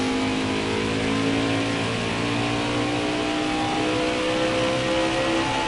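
The 95 car's race engine in NASCAR Heat 4 drones at steady high revs throughout, loud and continuous with shifting whining tones of other cars in the field, with no talking.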